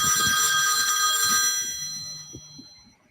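A phone rings with a bright, harmonic electronic tone that fades out over about three seconds, with low muffled sounds underneath.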